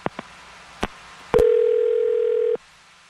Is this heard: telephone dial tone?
yes